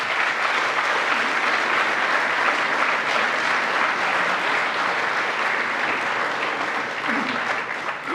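An audience bursts into sustained, dense applause as a speaker is welcomed to the stage at a lecture, a loud, even roar of clapping lasting the whole stretch and only easing slightly near the end.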